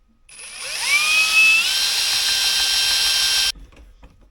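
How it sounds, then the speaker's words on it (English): A power drill drives a screw through a Jetboil gimbal and bowsprit fitting, its motor whining up in pitch and then holding a steady high drone for about three seconds before cutting off. "So I'm going to go and screw right through here."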